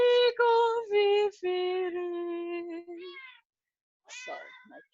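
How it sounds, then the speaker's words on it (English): A pet cat meows repeatedly and loudly right beside the listener, a series of long drawn-out cries in quick succession, followed after a brief gap by one more meow with a short spoken word. "Sorry, my cat."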